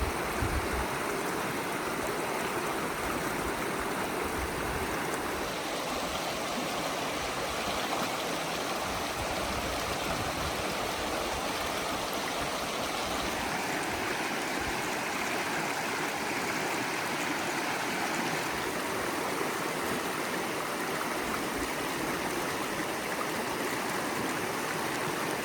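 A river rushes through Charyn Canyon, a steady, loud, broadband roar of flowing water that holds constant throughout with no voices.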